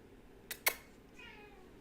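A pet cat gives a short meow, two quick bright bursts close together followed by a fainter, drawn-out tonal trail, heard near and alone in a quiet room.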